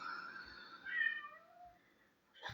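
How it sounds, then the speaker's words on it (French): A pet cat lets out a drawn-out, rising meow followed by a softer short mew, fairly quiet and close, with light handling thumps around it. "Ils sont gentils, les chats."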